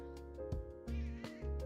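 A cat meows a few times in short, close but quiet calls, with no talk over it.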